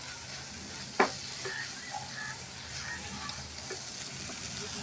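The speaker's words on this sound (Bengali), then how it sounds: "ভেজে রাখা কাজু কিশমিশগুলো এর মধ্যে দিয়ে দিচ্ছি, দিয়ে ভালো করে মিশিয়ে নিই।" Semai jorda, a sweet vermicelli dish, being stirred in a pan with fried cashews and raisins, giving a soft low scraping and faint sizzle with one sharp utensil knock near the start, no talking.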